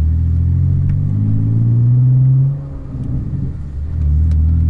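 A manual-transmission car's engine revs and holds a low rumbling drone, dips as the clutch engages and it pulls away, then builds again; loud and close with no voices.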